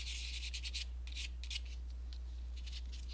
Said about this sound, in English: So just gently sand, like I say, just to remove those